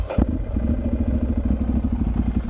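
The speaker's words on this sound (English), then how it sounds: "It has a full Terminology exhaust, which sounds glorious. I'll go and turn it on." A Ducati motorcycle with a full Termignoni exhaust, already warmed up on a cold day, starts with a sharp thump and settles into a loud, deep, gurgling idle with an even pulsing rhythm.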